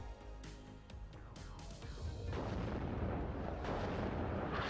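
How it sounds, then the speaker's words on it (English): Artillery strikes in the war game WARNO land as a rapid series of sharp booms that blur into a dense, continuous roar of explosions, loud and close with no talk. "Nice artillery strikes as well from Tanner all throughout this game."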